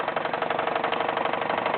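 A Wilesco D21 toy steam engine chuffs rapidly as its burner flame is raised, a steady fast mechanical pulsing rhythm, close and moderately loud, running alone.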